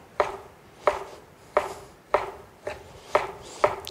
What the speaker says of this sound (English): now I'm going to switch over to my chef's knife. And I'm going to slice it really thin